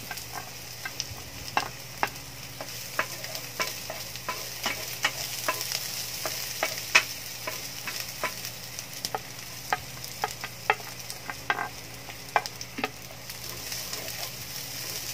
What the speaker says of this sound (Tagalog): igisa lang muna natin yung ating mga sibuyas, bawang at yung luya